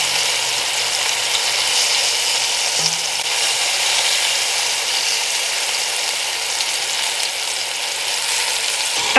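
Beef pieces browning in hot oil in a pan for a beef stew, giving a steady, loud broadband sizzle that runs continuously with no talking.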